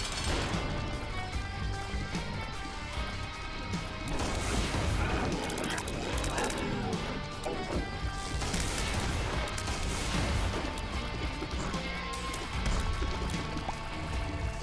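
Bomb explosions in The Binding of Isaac: Repentance, with crashing, gunfire-like blasts thrown at an enemy and buried in dense, loud game music and effects that run through the whole stretch.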